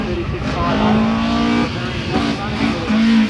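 A Datsun hillclimb race car, the class leader's left coast entry at Collingrove in 1994, fitted with a squeezed-in engine, runs loud and steady, its engine note rising and holding as it drives past, with commentary talk over it.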